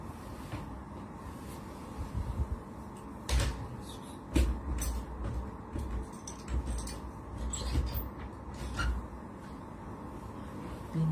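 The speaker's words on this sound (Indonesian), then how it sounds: "Pintu tertutup." A door swings shut inside a building with lots of broken glass on the floor, giving a few sharp knocks and thuds over a steady low rumble of room noise.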